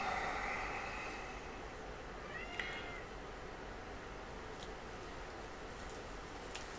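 A cat meows once around the middle, a short rising call over steady low background hiss, followed later by a few faint clicks; nobody speaks.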